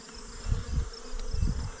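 Honey bees buzz steadily in an opened hive, a dense close drone with pulsing swells and no talking.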